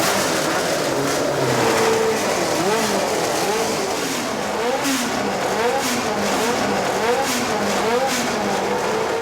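A restored Williams FW08C Formula 1 car's engine fires up and runs, rising and falling revs swooping loudly and close, with voices talking over it.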